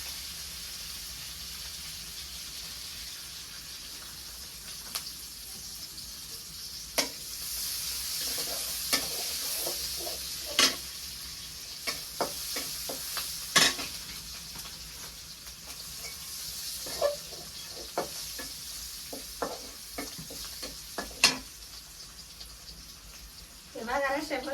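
Onions fry in a pan with a constant low sizzle while a utensil stirs them, giving scattered sharp scraping clicks at irregular intervals; faint speech appears intermittently.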